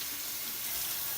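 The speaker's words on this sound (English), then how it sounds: "Rinse off this brush." A shaving brush rinsed under a running water tap, heard as a brief, steady, close hiss of flowing water with no voices.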